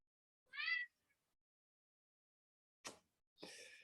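A house cat lets out one short, clear meow, followed after a long silence by two brief noisy bursts, all quiet and close in an otherwise still room.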